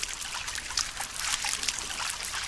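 Water trickles continuously during a wash in the survival game Green Hell, a steady close splashing with no talk.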